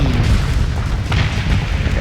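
Missiles exploding in the space combat game Starsector, a dense run of loud booming blasts rumbling continuously through the whole stretch with no pause, heavy and low in the mix.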